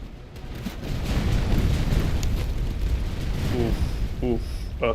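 Artillery barrages in a Seven Years War battle in the Master of Command game make a continuous rolling thunder of distant blasts and rumbling booms, with a voice speaking briefly near the end.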